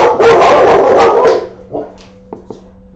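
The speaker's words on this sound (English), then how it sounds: "The dogs are barking at the mailman" Dogs bark at the mailman, several loud, close barks packed together at the start, then a few short yips and whimpers trailing off into quieter, isolated sounds.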